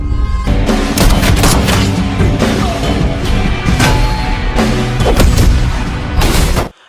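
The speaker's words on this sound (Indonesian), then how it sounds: "Ragu cekatan, ia langsung menembak mati Kumar dan Naraj" Loud, repeated gunshots and heavy booming bursts ring out in an Indian action film shootout, crowding together in a rapid volley before cutting off sharply at the end.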